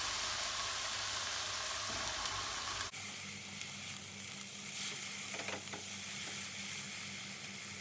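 Steady sizzling of egg and carrots frying in a pan with a little added water, a continuous hiss with occasional stirring and no voices.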